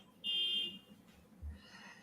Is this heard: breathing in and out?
no